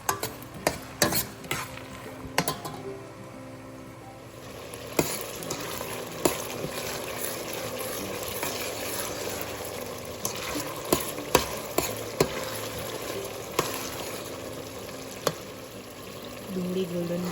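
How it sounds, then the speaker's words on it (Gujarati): Sliced onions frying with red chillies and bay leaves, a continuous oily sizzle with frequent spoon scrapes and stirring clinks against the pot; a voice speaks over the cooking. "લાલ મરચાં, તેજપત્તા, 2 ડુંગળી સમારીને નાખી છે. ગોલ્ડન બ્રાઉન થાય ત્યાં સુધી એને ચડવા દેવાનું."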